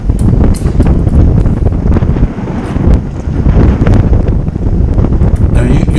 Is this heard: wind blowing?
yes